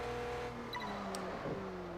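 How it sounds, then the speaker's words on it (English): Engine of a 2015 Audi RS6 Avant driving in Test Drive Unlimited 2, a loud continuous hum that dips in pitch at a gear change midway, then steadies, with a faint tire chirp. "Next car is the 2015 Audi RS6 Avant."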